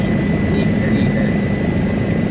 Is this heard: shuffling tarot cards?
no